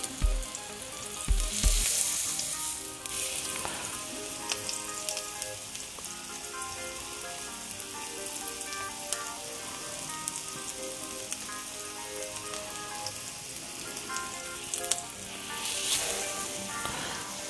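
Cajun-seasoned tuna sears in a very hot pan, a steady close sizzle and crackle running throughout with a few louder pops and spatters near the start and again near the end.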